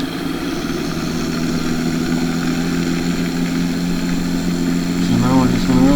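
A tractor engine runs steadily at close range, a continuous droning hum with a low rumble, holding level throughout before a brief rise in pitch near the end.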